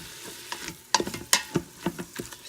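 Ground beef browning in an Instant Pot, a steady sizzle broken by irregular clacks and scrapes as a utensil stirs and breaks up the meat, close and fairly loud.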